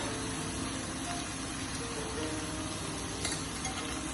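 Salmon fillets seasoned Cajun suya style frying in a pan, giving a steady, close, even sizzle with faint crackles throughout and no talking.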